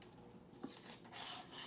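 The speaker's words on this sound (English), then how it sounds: "I need to butter the pan. Make sure you butter, especially the corner." Butter being spread across a pan for banana bread, heard as short rasping, scraping rubs of utensil against metal, quiet and close, with no talk.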